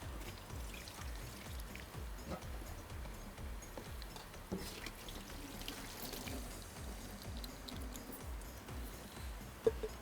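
Water pours out as soaked rice drains through a strainer for mutton pulao, a steady trickling and splashing stream with soft rhythmic dribbles and a brief clatter near the end.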